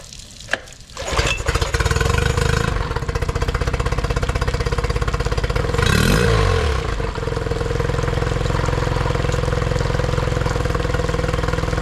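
A Honda 20 horsepower outboard motor being run in a garage full of outboards, starting up with a clatter, then a steady close running drone with a brief surge partway through.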